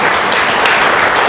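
A church congregation applauds and cheers for Jesus, a loud, dense, continuous wash of clapping and shouting filling the room with no let-up.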